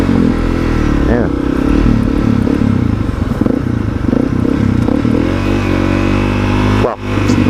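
A Honda CRF 250L motorcycle rides along, its engine droning loud and close with shifting pitch as it revs, plus wind buffeting and clattering, and a brief dip near the end.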